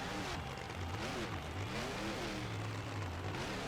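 A monster truck driven by Dusty Brady in a freestyle run at an Anaheim, California event: a loud, close engine roar continues throughout, with revs repeatedly climbing and falling in steady swells.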